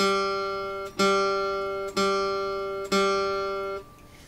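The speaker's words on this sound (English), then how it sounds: "G is the fourth string down," A guitar's open G string is plucked four times at an even pace. Each note rings bright and sustained, fading slightly before the next pluck, heard alone and close.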